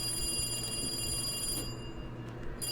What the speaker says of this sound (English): There was nothing but a ringtone.